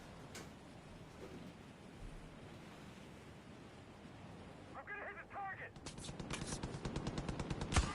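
Rapid bursts of gunfire from a shooting game crackle in quick succession near the end, rising over a steady roaring wind-like rush that fills the whole stretch.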